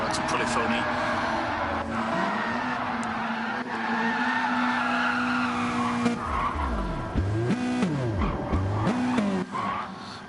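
Gran Turismo touring race cars at the Nürburgring GP squeal and skid under braking, engines droning steadily before tires howl in wavering bursts near the end, loud and close.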